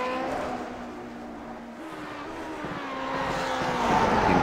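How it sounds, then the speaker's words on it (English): A vintage Grand Prix Legends race car in the iRacing simulator at Oulton Park, its engine droning close and steady, then pitch climbing as it accelerates toward the end. "Very smooth around this circuit as the car bounds over the leaps and bumps"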